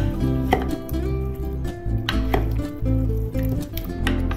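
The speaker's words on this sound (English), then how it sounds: "Now mix up well." Seasoned chicken pieces being stirred with a little water, salt, asafoetida and Kashmiri red chili powder, giving wet squishing and scattered knocks of a utensil against the pot over steady background music.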